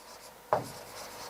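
A single short, close rub of writing on a board during a maths lesson stands out briefly against quiet room tone, with no speech.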